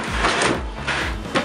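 A drawer slides open with a quick wooden scrape and rumble, then a couple of softer knocks, close and fairly loud with no talking.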